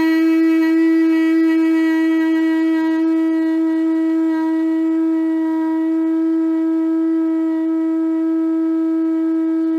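A single sustained E-flat note on a xaphoon, a reed-like woodwind, held steadily for the whole stretch, rich in harmonics, close and clear with no talking.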